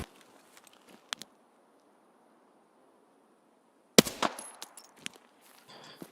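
Gunfire in Escape From Tarkov comes as a few sharp, scattered cracks early on, then a louder burst followed by more shots, over quiet ambient noise.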